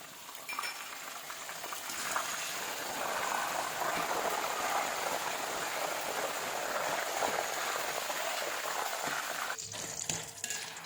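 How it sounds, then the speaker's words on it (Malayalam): Salt water poured into banana chips frying in hot oil makes a loud, steady sizzling hiss that swells and holds for several seconds, with a few clinks of utensils near the end. "ആ സമയത്ത് നമുക്ക് ഉപ്പുനീര് ഒഴിച്ച് കൊടുക്കാവേ."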